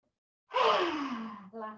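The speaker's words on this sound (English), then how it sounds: "We're going to do 3 lion's breaths." A forceful yoga lion's breath: a sharp intake, then a long, loud, breathy exhale with the tongue out, sliding down in pitch like a soft roar and ending in a brief voiced tail, heard alone and close.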